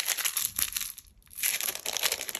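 A piece of clear plastic packaging from an old stamp pack crumpled by hand, close and crisp, with two bursts of crackling separated by a short quiet pause.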